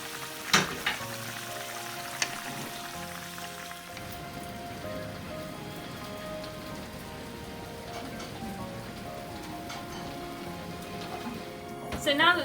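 Spicy tofu sauce sizzles and bubbles in a hot frying pan while being stirred, a steady close crackle with occasional utensil knocks and clinks, louder bursts at the start and end.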